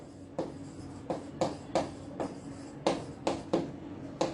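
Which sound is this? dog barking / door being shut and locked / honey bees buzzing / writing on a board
writing on a board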